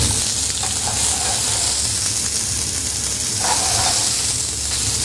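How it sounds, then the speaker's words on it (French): Mini vegetables fry in olive oil in a pan, a steady close sizzle and hiss that runs throughout with a few brief stirring surges. "je vais pouvoir faire cuire tout de suite dans ma poêle à l'huile d'olive également"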